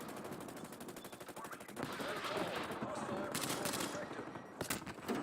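Rapid automatic gunfire in a video game shooter match, sustained bursts of shots with artillery-like booms, loud and continuous throughout.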